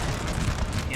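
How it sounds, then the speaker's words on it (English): Dense, continuous musket volley fire from Napoleonic-era infantry in a Total War battle, a rolling rumble of overlapping shots with no single crack standing out. "It's been some shooting, obviously a lot of shooting at this moment."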